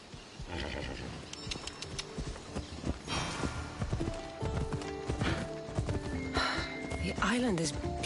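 A horse ridden at pace in an action video game on a Greek island, clip-clop hoofbeats and a whinny running under steady talk and game sounds throughout.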